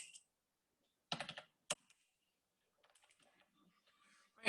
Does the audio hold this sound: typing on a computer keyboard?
yes